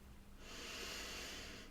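One slow, airy breath, soft and close, drawn during a hook-up breathing exercise with one finger at the belly button and the other on the forehead, rising from near silence into a steady hiss.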